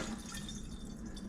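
Water collected from a Fehom dehumidifier's tank pouring out in a steady splashing, trickling stream, fairly quiet and continuous.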